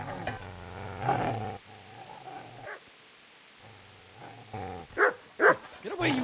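Dog in the video game Kingdom Come: Deliverance barking and whimpering, with short yelps and whines rising in bursts alongside game ambience.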